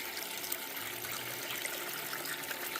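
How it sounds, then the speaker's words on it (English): Water running steadily over a Miller table sluice during gold panning: a constant, faint hissing trickle with a fine, bright splash texture, even throughout, with no voices. "water flow has increased"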